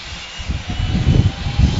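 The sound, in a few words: airplane engine during plane ride to skydive altitude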